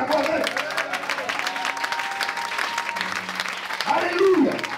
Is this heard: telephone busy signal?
no